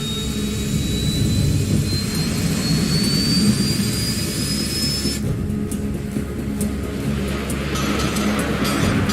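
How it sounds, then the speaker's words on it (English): F-104 Starfighter jet engine in the Ace Combat 7 video game, a loud steady roar with a rising whine as the plane accelerates, then a brief rattling burst midway, continuous with no talk. "All this plane could do was take off, accelerate, and fly up."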